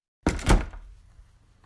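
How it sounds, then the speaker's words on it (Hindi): A door locks on its own in a spooky office scene: one sharp, close thunk with a quick double clack, then a low fading rumble, with no voices. "दरवाजा अपने आप लॉक हो गया।"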